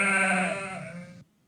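Sheep in the strategy game Lords of the Realm bleat loudly and up close in one sustained, wavering call lasting just over a second, then cut off abruptly to near silence.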